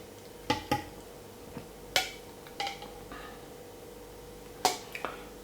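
A spoon stirs a juice mixture in a glass, giving several sharp clinks against the glass, spaced irregularly with quiet gaps, close and fairly loud with no talking.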